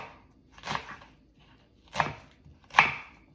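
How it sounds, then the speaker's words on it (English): Vegetables being chopped on a cutting board while preparing ackee and saltfish, three distinct knife strikes spaced about a second apart, fairly quiet and close with no talking. "I guess everybody already know how to chop vegetables."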